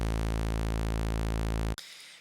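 A synthesizer holds a single low A1 note with no chorus effect, a steady, buzzy, harmonically rich drone sustained alone at constant loudness for nearly two seconds before cutting off abruptly.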